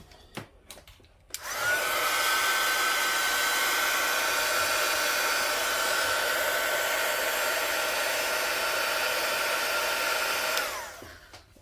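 A hair dryer blasts onto a freshly painted art journal page, starting abruptly, holding a loud steady whir for about nine seconds, then cutting off; a few faint taps come before it starts.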